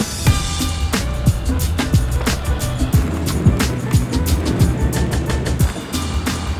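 A scooter ridden outdoors along pavement on the way to a raid, giving a steady rolling rumble with rhythmic clicks and thumps roughly every second as the wheels cross seams, under constant wind noise.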